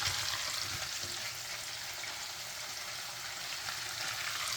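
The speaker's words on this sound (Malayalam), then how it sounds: "പക്ഷേ ഇതിനകത്ത് ഇങ്ങനെ ഡീപ്പ് ഫ്രൈ ചെയ്യുന്നതായിരിക്കും ടേസ്റ്റ്. അതുകൊണ്ടാണ് ഞാൻ ഡീപ്പ് ഫ്രൈ ചെയ്യുന്നത്." Prawns deep frying in hot oil give a steady, even sizzle and bubbling hiss that holds at a moderate level without pause and with no voices over it.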